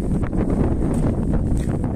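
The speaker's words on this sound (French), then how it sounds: "il y a du vent, oui, il y a du vent, c'est ça la campagne" Countryside wind blows steadily and loudly across the microphone, a continuous low rumble and rush with no pauses and no talk.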